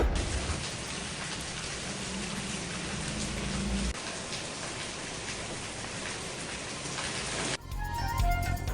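Steady rain pours across a Punjab city such as Lahore, Faisalabad or Sheikhupura, a dense continuous hiss of drops on surfaces with a faint low rumble beneath, shifting to a sparser, closer patter near the end.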